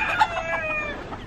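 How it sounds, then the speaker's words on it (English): Naked neck chickens give a short, close burst of clucking with a rising crow-like squawk, loud and alone for just over a second. "That's a naked neck chicken."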